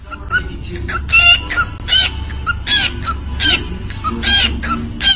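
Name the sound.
beatboxing bird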